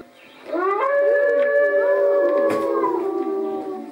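A wolf howls in a long, sustained wavering call with harmonic overtones, rising and sliding in pitch for several seconds, loud and clear with no talking.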